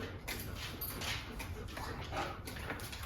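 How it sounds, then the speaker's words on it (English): Dogs come running into a room, their excited whimpers and soft whines mixed with scrabbling and movement noise, fairly close but low in level over a steady background hiss. "as I try to tell the story, the dogs come running in"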